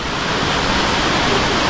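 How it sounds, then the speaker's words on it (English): Waterfall in Minoh Park, Osaka, a steady broadband roar of falling water filling the scene, continuous and fairly loud, with no voices. "So I think that is the waterfall that I am trying to get to."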